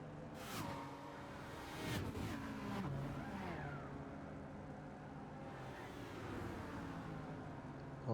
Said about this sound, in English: racing in these GT3 cars